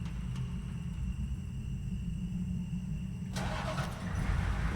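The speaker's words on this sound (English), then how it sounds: "Truck." A truck engine in the video game Bendy and the Dark Revival rumbles steadily at close range, the low drone swelling slightly louder toward the end with no speech over it.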